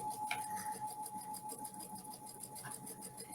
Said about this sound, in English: she's sewing another 1/4 inch on the next row